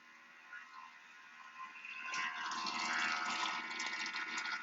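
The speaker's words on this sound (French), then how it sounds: "je lave ma spatule, mais je la lave bien avec de l'eau froide" A spatula rinsed under cold running tap water, a faint trickle that swells into a steady, fuller gush of flowing water partway through, with no talking.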